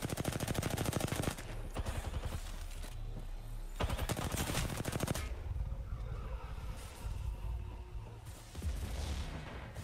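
Rapid automatic gunfire bursts in the Apex Legends video game, loud and near, with dense rattling volleys, short pauses between bursts and sharp impact cracks.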